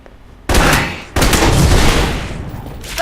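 Loud, close gunfire from the video game Alpha Protocol, a sustained rattling burst that breaks off briefly and then resumes into a long continuous volley, with no speech over it.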